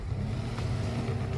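A car engine revving with a steady, full roar, continuous and fairly loud throughout, with no voices over it.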